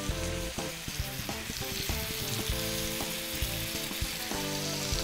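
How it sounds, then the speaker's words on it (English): Seasoned steaks sear in hot melted butter, producing a loud, dense, continuous sizzle and crackle that stays close and constant throughout, with no talk over it. "I'm gonna add the steaks seasoned side down and let them sear for 2 minutes"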